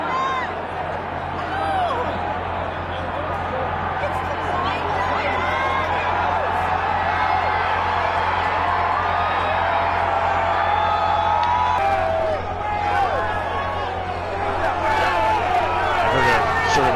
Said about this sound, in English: Commotion and some shouting coming from somewhere outside the room